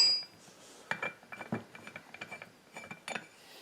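Reverse-thread part of a Holzfforma case splitter and assembly tool for Husqvarna and Stihl chainsaws being unscrewed by hand, a series of close, quiet metallic clicks and ratcheting ticks in an irregular rhythm.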